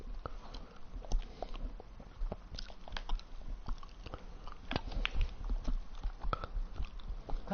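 Near, steady chewing of food during a Snooker 19 game stream on PS4, with crunchy bites and moist clicks in an uneven rhythm, heard alone over faint background hum.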